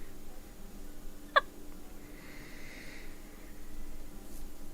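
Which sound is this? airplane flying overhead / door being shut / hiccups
hiccups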